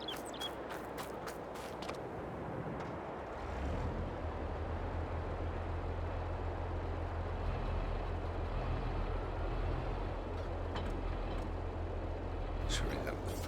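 A Massey Ferguson tractor in Farming Simulator 22 starts up and holds a low, steady engine rumble for several seconds, with clicks and interface taps around it and a voice talking over it.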